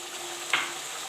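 Potatoes and peas frying in a pan over a full flame with garam masala and salt, a steady close sizzle with one brief louder hiss burst partway through.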